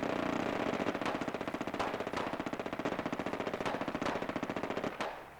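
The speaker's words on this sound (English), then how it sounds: "I think that's robots. It sounds like robot fire." Rapid, sustained automatic gunfire from hostile robots in Fallout 4, a dense rattling stream of shots with brief bursts and pauses, fairly loud and continuous with no talking.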